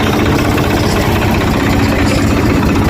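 An agricultural machine's engine runs steadily at idle, a loud, dense low rumble with constant vibration and no pauses, at a modern farm equipment works.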